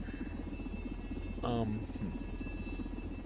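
A helicopter rotor drones steadily in SimplePlanes VR, a continuous buzzing hum that stays level throughout, with a brief tonal sweep in the middle.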